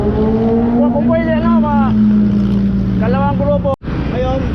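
Motorcycle engines idling and revving on a group ride on the Sierra Loop, a steady low drone with several rising throttle sweeps and a brief cutout near the end, with people talking in the background.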